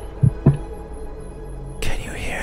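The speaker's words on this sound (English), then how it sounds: "That's a heartbeat." A heartbeat, two deep muffled thumps in quick succession over a low hum, followed by a faint rustle, close and quiet.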